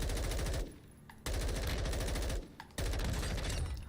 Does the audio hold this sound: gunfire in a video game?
yes